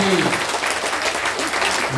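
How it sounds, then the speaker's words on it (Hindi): A crowd at a Jan Suraaj political rally breaks into loud, sustained applause for about two seconds, a dense wash of clapping with a brief voice at the very start. "आप ताली बजा दिए"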